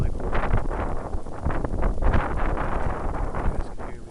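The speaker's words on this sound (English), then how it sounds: "I've got some wind blowing here." Outdoor wind blows straight across the microphone, a steady low buffeting rumble with gusty surges and no voices throughout.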